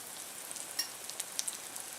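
Green tomatoes frying in hot grease in a skillet, a faint continuous sizzle with scattered small pops and crackles.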